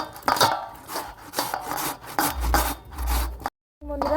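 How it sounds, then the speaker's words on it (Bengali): Potatoes grated by hand, raw spuds scraped on a grater in steady rasping strokes, close and loud, with a brief pause before the scraping resumes. "একে একে এইভাবে আলুগুলোকে দিদি চুড়ে নিচ্ছে"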